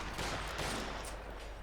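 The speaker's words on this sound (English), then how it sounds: "Nice bit of shooting going on there." Gunfire in a WWII real-time strategy game, Panzer Fusiliers fighting in a snowy street: a dense, continuous burst of overlapping shots rattling steadily throughout, with no pauses.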